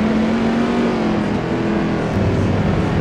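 A BMW race car in a racing video game at Imola, its engine humming loud and near at a steady pitch, then building in pitch and strength as it accelerates toward the end.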